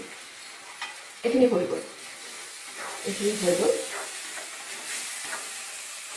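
Oil crackles and hisses in a pan during tempering, a steady close sizzle that swells briefly twice while a voice talks over it.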